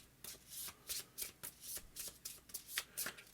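Tarot cards shuffled by hand during a reading: a steady run of crisp riffling bursts, close and fairly quiet, repeating roughly every quarter second with no voices.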